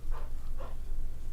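A dog named Max lets out a couple of short whimpering, yelping cries over a steady low background hum.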